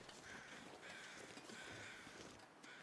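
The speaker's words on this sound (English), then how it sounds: "Those are regular crows." Crows in The Long Dark caw repeatedly in a faint, distant series of harsh calls over a steady wind-like background hiss.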